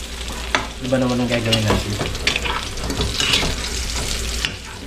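Onion and garlic sautéing in a pan, a steady sizzle with stirring scrapes, joined by a short run of tonal clinks early on, close and continuous.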